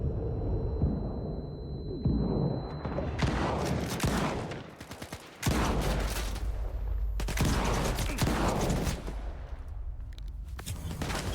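Rapid bursts of gunfire from the player's weapon in a modded video game on the hardest difficulty, loud and dense, with several sustained volleys broken by brief pauses.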